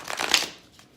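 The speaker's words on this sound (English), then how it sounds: "let me just do a little deck shuffle here" A tarot card deck is shuffled in a quick, soft riffle of papery flutters lasting under a second, close and fairly quiet, followed by a faint trailing rustle.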